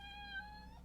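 Artemis the cat gives a single soft, drawn-out meow, faint and nearby against a low background hum, with no talking over it.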